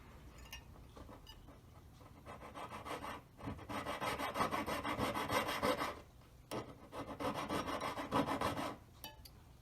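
A saw blade grinds through metal stock during the making of a square four-claw collet, with close, rhythmic rasping strokes in bursts separated by brief pauses, and no voices.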